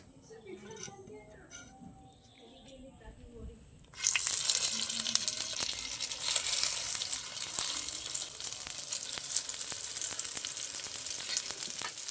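Bread sizzling and frying in a small amount of oil in a frying pan, a loud steady hiss that bursts in suddenly and continues with crackling, preceded by quieter kitchen sounds.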